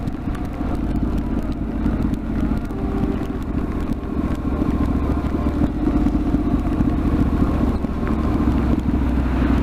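Honda CTX700N motorcycle ridden in the rain, with a steady low engine drone under rushing wind and road hiss, continuous and close throughout with no speech.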